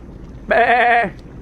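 A goat gives one short, wavering bleat up close, loud and clear against quiet surroundings, lasting about half a second.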